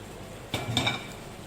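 Cooked potatoes dropped into a pan with cabbage-style vegetables, a single clattering tumble with a light metallic clink, close and brief, followed by quiet.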